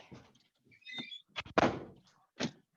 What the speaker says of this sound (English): So actually I'm just gonna close the door.